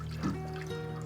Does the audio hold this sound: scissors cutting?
no